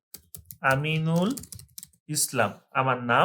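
A name is typed on a computer keyboard for a job cover letter, with quick, soft key clicks partly buried under someone speaking.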